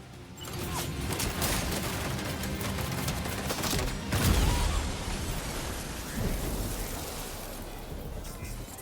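Rapid gunfire from a weapon in the video game Death Stranding 2, a dense continuous burst of shots over a noisy battle backdrop, with a heavier blast swelling near the middle.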